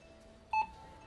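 A single short electronic beep from a scanner reading a QR code on a phone, clear and close against a quiet background hum.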